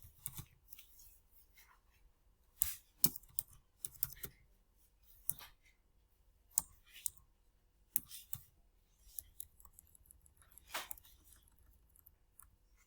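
Scattered bursts of clicking key presses on a computer keyboard, sharp and close, separated by quiet pauses, with no talking over them.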